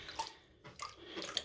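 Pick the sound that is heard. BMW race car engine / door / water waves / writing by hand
water waves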